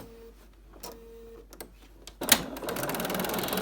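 A sewing machine stitches interfacing and inner fabric for a homemade cloth face mask, starting with a few short mechanical bursts, then running into a steady, close whirring drone without talk.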